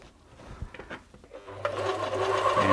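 A serger overlocker, unthreaded, starting up for a feeding test after a feed fault fix: a few soft clicks and handling noises, then the motor whirs into a steady, fast, loud mechanical run.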